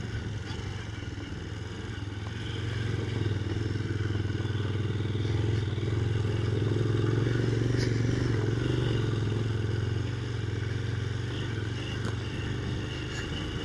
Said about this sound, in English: I don't know what are these lads up to on their pit bikes